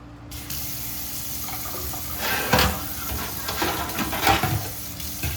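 Hot water runs steadily into a home sink while an SOS pad scrubs foam on a 1967 Schwinn Typhoon part, a constant splashing hiss broken by louder rubbing strokes.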